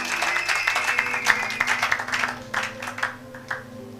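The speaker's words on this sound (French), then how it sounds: "Acclamons pour la gloire de notre Dieu" A church congregation applauds at a worship gathering, with steady clapping over a background of voices and room noise, fading slightly toward the end.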